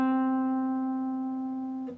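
A single guitar note picked on the fifth fret of the G string and held with vibrato, ringing clearly for about two seconds and slowly fading before a soft touch at the end.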